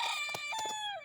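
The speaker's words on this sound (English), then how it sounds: "shout out to the rooster" A rooster crows once, close and loud, in a single drawn-out cock-a-doodle-doo that rises and trails off, with no other sounds around it.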